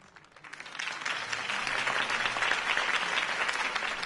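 Applause breaks out after a campaign speech, starting faint and building quickly into dense, sustained clapping from a large audience that holds steady to the end.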